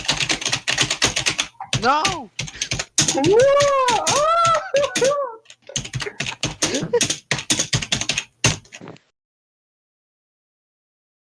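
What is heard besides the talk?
typing on HP laptop keyboard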